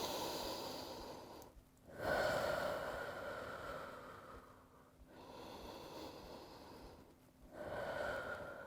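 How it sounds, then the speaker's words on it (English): Slow, deep breaths during a yoga strength flow, three long audible inhale-exhale cycles with short pauses between them, close and soft, with no talking. "take a couple of deep breaths"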